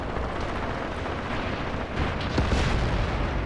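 Heavy artillery and gunfire rumble through a Graviteam Tactics battle, dense continuous booming with impacts swelling louder toward the end, no speech.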